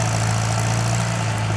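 Farmall C tractor engine pulling a plow through a slick, muddy field, a loud steady low rumble with constant vibration, close and unbroken.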